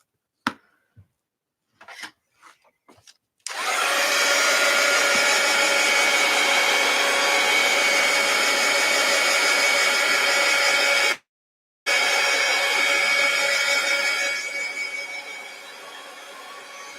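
A hair dryer blows steadily on a journal page, running loud and continuous for several seconds. It cuts out briefly, starts again and then softens toward the end, with a few faint handling knocks before it begins.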